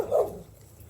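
A single dog bark rings out outdoors during a walk along a road, a short, moderately loud burst that quickly fades into quiet background.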